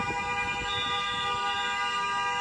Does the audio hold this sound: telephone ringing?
no